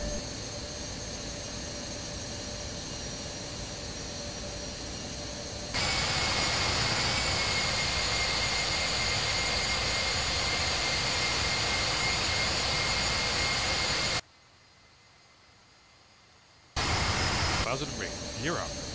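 Loud, steady roar of BAe 146-300 jet engines spooling up for takeoff in a flight simulator, a sustained broadband rush with a high whine that jumps louder partway through, briefly cuts out, then resumes.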